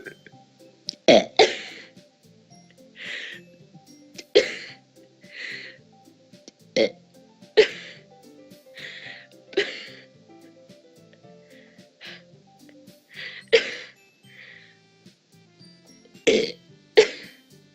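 A person forces a string of weak, short burps, a dozen or so breathy throaty bursts spaced irregularly, close and fairly quiet.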